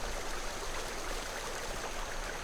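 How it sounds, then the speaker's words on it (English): A swift, cold, pebbly babbling brook in the game The Night of the Rabbit, a steady, unbroken rush of running water with no voices. "A swift, cold, pebbly, babbling brook"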